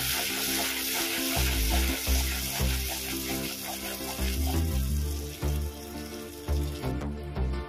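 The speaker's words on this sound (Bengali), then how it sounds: "আমি এখানে যে মশলার পেস্টটা বানিয়েছিলাম, ওটা এই তেলের মধ্যেই দিয়ে দেবো।" Ground spice paste fries in hot oil for a Bengali-style prawn curry, giving a loud, continuous sizzle close by. Intermittent stirring scrapes pulse through it.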